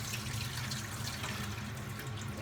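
Rice washed in a pot under steady running water, a continuous close splashing and rushing flow with no talk.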